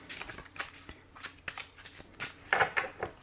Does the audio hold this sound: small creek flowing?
no